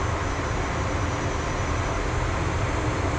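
A military jet in DCS roars steadily while taking off from a very short runway on Cyprus on the Syria map, a loud, unbroken engine drone with no voices.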